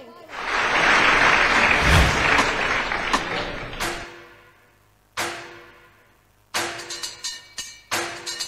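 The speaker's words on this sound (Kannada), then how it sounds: "ಬರ್ಲಿ ಜೋರಾದಂತಹ ಚಪ್ಪಾಳೆ" An audience at a televised dance competition grand finale claps loudly for a dancer, the dense applause fading after about four seconds, followed by a few sharp percussive hits.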